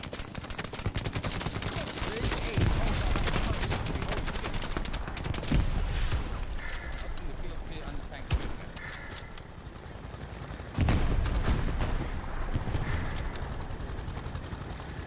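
Gunfire crackles in the World War II shooter Hell Let Loose, bursts of rapid shots and sharp single cracks spread over fifteen seconds at varying distances, with occasional heavier impacts.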